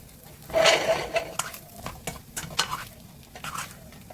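Egg being stir-fried into fried rice with abalone and seafood in a wok, with soft sizzling and repeated scraping, tossing strokes of a spatula, close and moderate.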